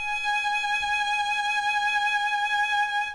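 Violin sounding a single sustained G sharp on the first string, a clear steady bowed tone held for about three seconds, close and moderately soft, with no talking.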